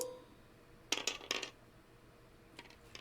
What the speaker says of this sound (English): 4 dice down at you.